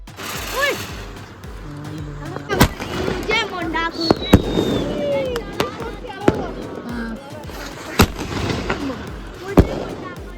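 Diwali firecrackers burst at night in a run of sharp, loud bangs, some close and some farther off, with whistling and crackling between them and people talking and shouting throughout.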